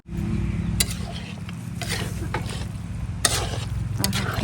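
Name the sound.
stirring chicken curry in a pan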